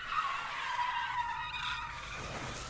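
A speeding truck skids in a video game, a sustained squeal of tires with engine noise, loud and close, lasting a few seconds and ending abruptly.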